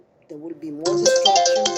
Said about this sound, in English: That was my phone.